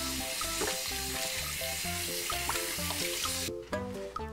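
Tap water runs broad and steady into a cooking pot in a home kitchen, a constant hissing rush heard alone under background music before cutting off near the end.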